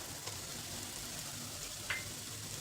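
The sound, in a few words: onion and vegetables sautéing in butter in a pan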